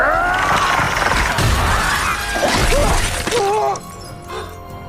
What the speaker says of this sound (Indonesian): Pennywise tiba-tiba muncul di belakangnya dan mulai menghentakkan kepalanya ke dinding kaca